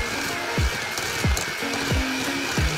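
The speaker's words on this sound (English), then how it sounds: "So I'm mixing the sugar and the butter" An electric mixer creams sugar and butter for a Jamaican fruit cake, giving a steady close whir broken by a series of dull, regular knocks of the beaters against the bowl. No one talks.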